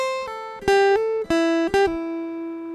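A guitar with a capo at the third fret has its first string plucked, giving a series of clear ringing notes that each sustain and decay, close and alone with no talking.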